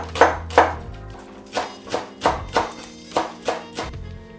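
Knife chopping fresh garlic on a cutting board while making a mayonnaise dressing for an Ethiopian vegetable dish, about nine distinct close thunks in an uneven rhythm with short pauses.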